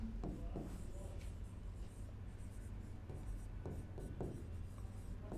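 Chalk or marker strokes scratch and tap across a classroom board in irregular short bursts, with faint room noise and a low hum beneath.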